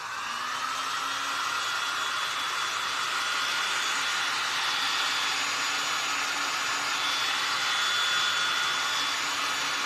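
A handheld heat tool blows with a steady, loud airy roar and a faint whine, running continuously while drying junk journal paper.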